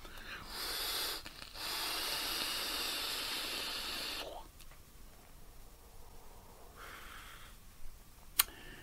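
A breathy vapour hiss from drawing on an Artery Hive 200 atomizer with the airflow fully open at 50 watts; a steady airy rush lasts several seconds up close, followed by a fainter shorter draw and a sharp click.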